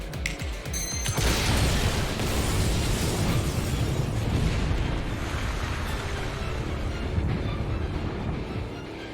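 A massive explosion levels a town in a video game, a loud sustained roar and rumble that begins abruptly after a brief pause and stays dense and powerful for several seconds without anyone speaking.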